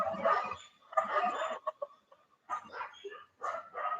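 A dog barks in short bursts at close range, the yaps clustered in several quick groups separated by brief pauses.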